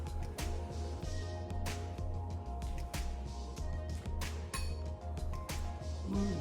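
Bright glass clinks ring out repeatedly in quick succession during a kitchen toast over pulled pork and pinto beans, sharp pings over a steady low hum, with no talking.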